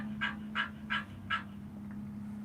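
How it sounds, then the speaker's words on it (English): A bird near The Villages, Florida, calls four times in an evenly spaced series of harsh, honking notes, fairly close, with a steady low hum running underneath and no talk. "We've got a bird that doesn't like us very much"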